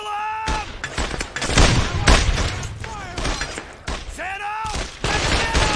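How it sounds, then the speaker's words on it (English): Firefight gunfire in the World War II shooter Brothers in Arms: Hell's Highway, with dense bursts and booming shots running throughout, mixed with shouted voices and a loud call over the battle. "You have to put some fire on them"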